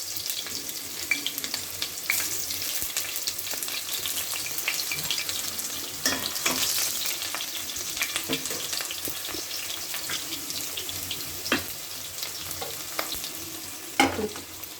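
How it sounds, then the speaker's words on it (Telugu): Onions sizzling in hot oil with mustard seeds and urad dal, steady crackling fry with occasional sharp pops and stirring clinks, close and unaccompanied by voices. "ఇప్పుడు ఆవాలు మినపప్పు వేగిపోయాయండి. ఆనియన్స్ వేసాను."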